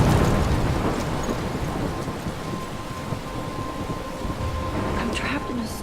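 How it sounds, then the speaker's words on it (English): Stormy weather in Life is Strange: loud, dense rain and wind roar continuously, with low rumbling thunder underneath and a steady tonal hum running through the downpour. "I'm trapped in a storm?"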